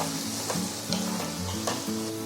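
Spiced masala with tomatoes sizzles in a pan while a spoon stirs it in regular scraping strokes. The sound is close, moderate and continuous, with no voices.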